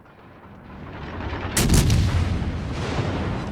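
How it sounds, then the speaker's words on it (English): Heavy 16-inch naval gunfire from the battleship Vladivostok in World of Warships: Legends, aimed at a Massachusetts: one loud booming salvo strikes after a low rumbling buildup, then a thick rolling tail of blast noise lingers. "As I get into position, I'm going to take some shots at the Massachusetts turrets here."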